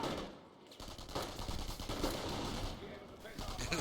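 Sustained machine-gun fire with scattered rifle shots from an MG squad in a World War II real-time strategy match, a dense, continuous crackle of gunfire, steady and fairly loud throughout, with a brief dip early on and faint commentary mixed underneath.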